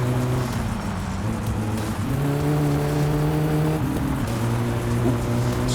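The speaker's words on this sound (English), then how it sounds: "Slightly over rev." A car engine in the driving game My Summer Car revs high and strains through a corner, a steady loud drone with pitch shifts and a brief drop near the middle, with faint tire noise beneath.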